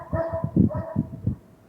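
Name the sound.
dog barking at people in the driveway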